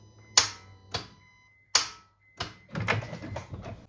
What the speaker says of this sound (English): I'm going to hit the starter button and see if the voltage drops